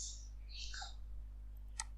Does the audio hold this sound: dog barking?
no